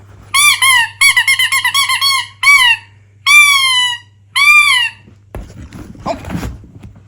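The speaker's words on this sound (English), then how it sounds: "You want me to squeak it like Daddy does?" A squeaky dog toy is squeezed in quick bursts, first rapid chirping squeaks then longer drawn-out squeals, loud and close, followed by soft thumps and rustling.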